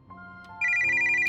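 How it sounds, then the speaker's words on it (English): A smartphone in a video game rings with a bright electronic ringtone, a steady repeating chime that starts after a short musical lead-in and plays loud and close, with no voices. "Okay, answer the phone. It's Sofia's smartphone."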